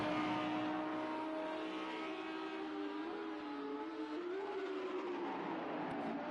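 A GRL race car screams around Sonoma Raceway at speed, its engine holding a steady, loud, high-pitched drone that shifts slightly in pitch as it runs, with no talk over it.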